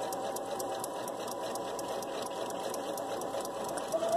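A sewing machine hums steadily at close range, stitching a liner into a baby gown, with a continuous motor whir and a rapid, even needle clatter throughout.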